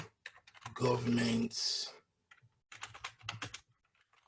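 Rapid clicking of typing on a computer keyboard comes in short bursts around a man's speech, the keystrokes close and fairly quiet, with a pause midway.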